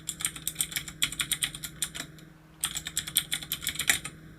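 Rapid clicking keystrokes on a computer keyboard while entering a name and email address, two close bursts of steady typing with a short pause between.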